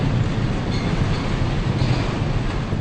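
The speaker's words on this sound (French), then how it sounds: "le tir que l'on va entendre dans quelques secondes est amoindri par les techniciens du Grand Lyon par rapport au premier tir" Reduced-strength blasting for a tunnel construction site in Lyon comes through as a continuous low, heavy rumble with no distinct crack, steady in loudness throughout.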